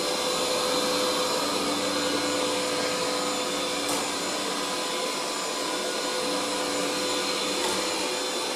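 A Cecotec Conga 7090AI robot vacuum cleaner runs with a steady, dense whirring hiss, constant in loudness and close by, with no voices.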